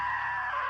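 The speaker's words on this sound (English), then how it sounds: "Now that was a great scream." A short sustained scream in the video game What Remains of Edith Finch, loud and close, held steady for under a second.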